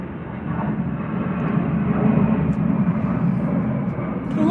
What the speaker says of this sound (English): That doggone plane is low as I don't know what.